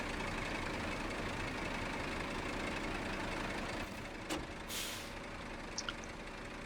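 An old Kodiak truck idling in the SnowRunner video game, a steady low diesel rumble with a sharp hiss of air brake release near the end, no speech.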